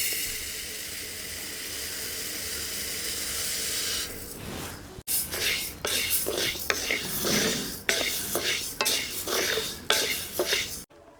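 Moong dal roasting in a pan gives a steady soft hiss at first, then a run of repeated scraping and clattering stirring strokes, close and moderately loud.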